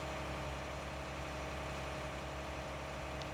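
Steady low rumble of a tractor engine idling in a farming simulator game, constant and unbroken throughout with no voices.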